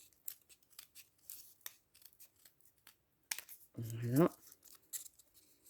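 Metal scissors snipping paper for a simple Christmas sled craft, a quick run of short, crisp cuts close by, with a voice speaking briefly over the work.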